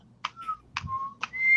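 Short whistled notes from a person, three steady tones each opened by a sharp click or snap, fairly close and clear with a faint low hum underneath and no talking.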